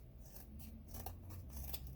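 Scissors snip through paper while trimming excess from a handmade notebook, a steady run of close crisp cuts with faint rasping between strokes.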